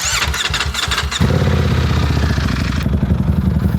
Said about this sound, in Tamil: பேர் கிளச்சு உங்களுக்கு சுற்றிக்கிட்டு இருக்கு, நல்லா அருமையாக சுற்றுது இல்லை?